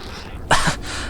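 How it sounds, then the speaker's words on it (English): Crow in Half-Life 2 being eaten by a barnacle: a single short harsh rasping burst, fairly close and loud, rising out of quiet ambience and fading after about a quarter second. "the crow gets munched by the barnacle there"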